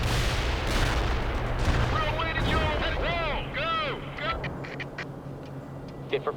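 Gunfire in World in Conflict, a 2007 real-time strategy game: loud, dense bursts of shots and blasts over a constant battle rumble, easing into scattered pops near the end.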